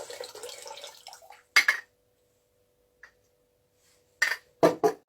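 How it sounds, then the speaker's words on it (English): Water poured off into a bowl while making pao chai ferment: short bursts of splashing and trickling liquid in separate pours, close and clear, with quiet gaps and a faint steady hum between. "I'm going to pour off my water into the bowl"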